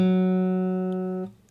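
A single electric guitar string tuned down a half step to G flat is plucked once and rings steadily on its own, then is damped abruptly near the end.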